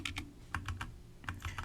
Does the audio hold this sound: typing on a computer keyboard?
yes